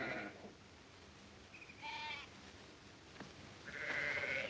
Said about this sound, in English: Now, Drummond, get those sheep out now.